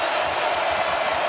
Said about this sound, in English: One of the largest crowds in stadium history